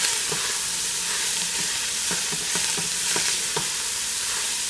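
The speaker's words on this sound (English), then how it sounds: "I'm going to add 2 cups of onion. Give that a little toss." Onions sizzling in a sauce pot, a dense steady hiss overlaid with scattered scraping stirs and tosses, close and continuous.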